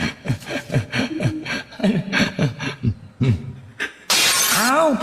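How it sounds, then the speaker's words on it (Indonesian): A plate breaks with a sudden loud crash and a spray of shattering pieces, right after several seconds of people talking. "Pecah piring."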